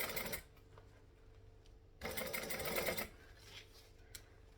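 A sewing machine runs in short bursts with a nearly empty bobbin, its rapid stitching clatter rising and stopping twice in the foreground, with quiet pauses between runs.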